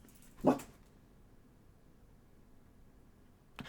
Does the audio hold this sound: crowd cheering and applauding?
no